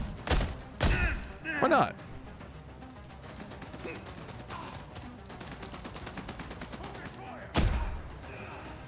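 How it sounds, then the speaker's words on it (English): Gunfire with incendiary rounds in The Expanse: Osiris Reborn video game, loud heavy bursts early and again near the end with faint scattered shots between, mixed with a brief spoken remark. "Can I use incendiary rounds?"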